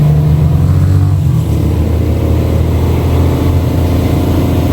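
A truck engine in Jamaica drones loudly and steadily, with a deep low rumble and a rise in pitch as the driver gives it gas, alone without voices.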